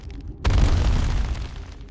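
A collision bang of a rock struck in space, one sudden heavy boom that hits hard and then rumbles on, loud and close, slowly settling over the next second and a half without any voices.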